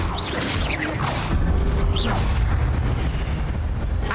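Spell effects from Hogwarts Legacy, including Expelliarmus, come as loud whooshing bursts and booming impacts, with sweeping magical swishes over a dense rumbling battle background.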